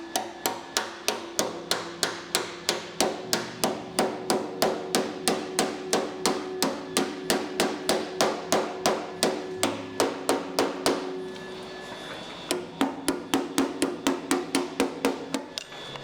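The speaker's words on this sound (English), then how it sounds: "And then smash it with a hammer." A hammer pounds a Datsun body panel in steady, evenly spaced metallic blows, loud and close, with a brief pause before the strikes resume.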